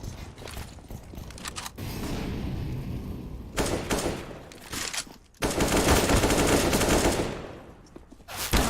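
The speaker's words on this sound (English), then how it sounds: "Sabersochi has been left with a machine gun going into this round" Machine gun fire in the video game CS:GO during a competitive match, with loud sustained automatic bursts, the longest near the end, separated by shorter rattling shots and mechanical clatter.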